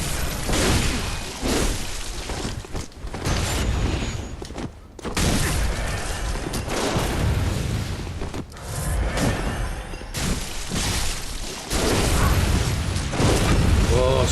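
Dense, loud gunfire from a shotgun and machine gun in the Bloodborne video game, with continuous bursts, booms and mechanical clatter that fill the whole stretch and barely let up, while a voice talks over it.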